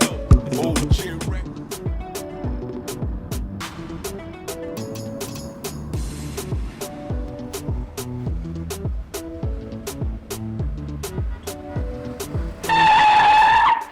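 A car is driven with engine and road noise under a rhythmic, music-like backing, ending in a loud sustained tire squeal.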